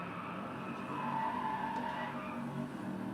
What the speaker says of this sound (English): I'm just enjoying my drifting here.